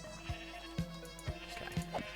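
Sheep in Minecraft bleat in a run of short, evenly spaced calls, four or five in about two seconds, each a brief nasal bleat over a faint steady background hum.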